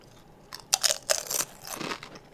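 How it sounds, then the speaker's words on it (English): Someone eating chips during a podcast, several close, sharp crunches and chewing bursts in quick succession, with no talk over them. "Are you eating chips while we podcast?"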